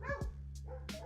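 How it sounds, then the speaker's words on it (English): A gray dog barks close by, two or three sharp yelps and barks in a quick burst over a steady low background hum, with no talking. "I've got the gray dog out here with me"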